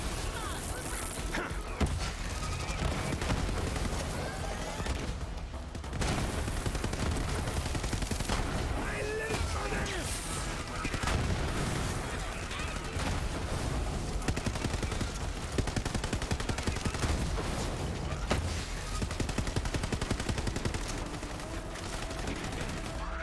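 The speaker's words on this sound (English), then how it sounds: "The problem with this gun is it just takes so long to wind up, you know? But it is an absolute shield buster, man." Sustained gunfire from a slow wind-up gun in the shooter video game Borderlands 3, dense rapid bursts of shots mixed with impacts and game effects, loud and continuous for most of the stretch with brief lulls.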